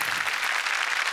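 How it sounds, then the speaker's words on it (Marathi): Audience applause at a live devotional music performance, a steady dense wash of clapping that stays loud and even throughout the short stretch. "निलेशजींसाठी पण टाळ्या वाजवूया"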